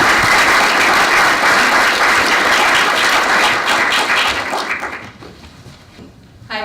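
Sustained applause from a conference audience at EAGxAustralia 2018 greeting a speaker coming to the stage, a dense steady clapping that holds loud for several seconds before thinning and fading near the end.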